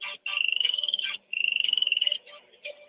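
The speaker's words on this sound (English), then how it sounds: "Hey, look, it's a frog." A frog outdoors gives repeated trilling, buzzy calls in two long bursts and a shorter one, close and clear, with no talk over them.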